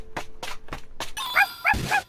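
A dog close by gives four quick, evenly spaced barks, then breaks into high, whining yelps, all loud and near with no talk over them.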